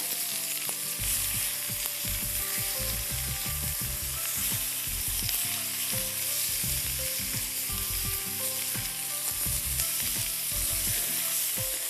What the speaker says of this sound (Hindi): आपने नमक और काली मिर्चें और पेपरिका वाला चिकन इसमें डाल देना है, और अच्छी तरह इस तरह करते रहिएगा ऊपर नीचे इसको